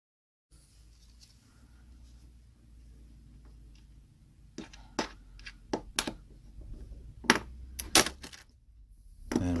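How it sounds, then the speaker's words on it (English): A 13 amp plug fuse being cut open with a tool: quiet low handling noise at first, then a series of sharp clicks and snaps, louder and closer toward the end. "So this is another 13 amp fuse. So I'm going to cut that open for you."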